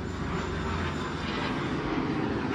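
Airplane flying overhead close to an airport in East Tambaram, a steady broad engine roar that holds loud and continuous throughout, with no talking.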